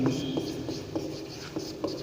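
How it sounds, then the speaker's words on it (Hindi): Chalk or marker strokes on a board during a Hindi-language maths lesson on functions: a steady run of short scratchy strokes in an uneven rhythm, close and fairly quiet, with no talking. "इसका हिंदी अर्थ लिखेंगे"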